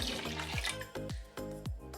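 Water pours from a tap into a pot to make stock for lentil soup, a steady close rush broken by a few short gurgling splashes as the level rises, with no talking.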